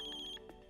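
A phone in the Death Note anime rings with a bright electronic trill that pulses rapidly for a moment and then cuts off, leaving a faint tail of background music.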